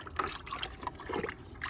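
Homemade compost tea sloshes and trickles while a garden plant is watered, a brief, steady splashing pour heard up close.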